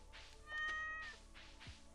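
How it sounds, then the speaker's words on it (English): Cat in Stardew Valley giving a single short meow when petted, clear over quiet farm game ambience. "And then we gotta pet the kitty."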